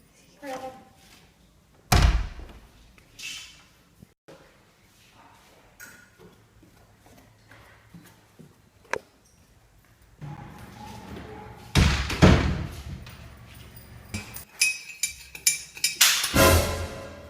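A door is slammed shut with a loud thud, followed by quieter knocks and later a burst of louder banging and rattling, with people talking in between.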